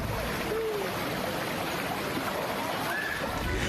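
Swift river water rushes steadily across a crossing in Cimanggu, Pandeglang, Banten, a dense, continuous broadband wash with faint splashes, loud and close throughout.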